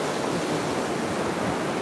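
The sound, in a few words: tide rolling in, waves on the beach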